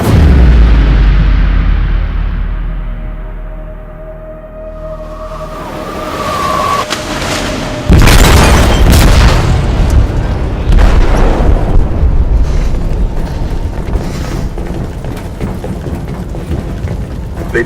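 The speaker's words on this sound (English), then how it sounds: "They detonated an explosive in the hold. The ship is sinking, sir." A heavy explosion in a ship's hold in the Detroit: Become Human game, a loud deep boom followed by rumbling blasts and crashing debris, with fading rumble and scattered bangs afterward.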